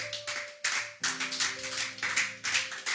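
A church congregation breaks into loud, sustained applause in several rolling bursts, with a held tone sounding underneath. The room is full and close, and no one speaks.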